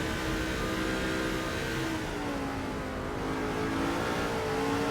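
Race car engines from the NASCAR 2005 video game, a 2007 Ford in a Busch series race, drone steadily throughout, with shifting engine tones and other cars nearby, fairly quiet and with no talk.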